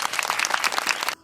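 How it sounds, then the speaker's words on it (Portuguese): A small crowd bursts into lively, continuous clapping at the opening of a Portuguese-language Christian talk, dense and close, then cuts off sharply near the end. "Vamos dar palmas."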